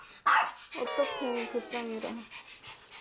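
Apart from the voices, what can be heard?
Maltese dog barking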